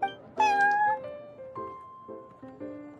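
The cat Prince from the Genshin Impact card game meows loudly and close, a long drawn-out mew followed by several shorter plaintive meows in a row.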